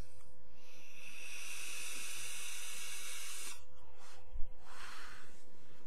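A long, steady airy hiss of an inhale drawn through an Aspire Cleito sub-ohm tank on a mod, lasting several seconds, followed by a softer breathy exhale; close and fairly loud with no talking.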